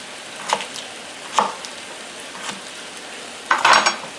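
Knobs of butter sizzle softly in a frying pan with chicken, punctuated by several sharp clinks and scrapes of a utensil against the pan, the loudest clatter near the end.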